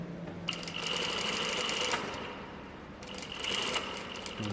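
A sewing machine runs an edge stitch along a button-up shirt, two fast bursts of steady rapid stitching separated by a short pause, close and clear with no talking.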